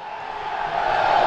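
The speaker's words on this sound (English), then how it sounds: "Dulwich fans claiming the goal" Dulwich Hamlet football fans roar to claim a goal during a National League South match against Billericay Town, a broad crowd cry that swells toward the end.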